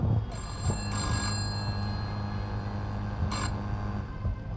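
A telephone rings with an incoming call at an event stage, two bright trilling bursts separated by a pause, over a steady low hum from the hall.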